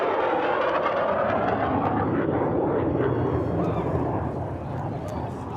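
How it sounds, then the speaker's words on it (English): A military jet, an F-18, roars overhead in a loud, steady, broadband rush that slowly fades toward the end, heard outdoors at a desert wasteland festival. "What's that, an F-18, I think?"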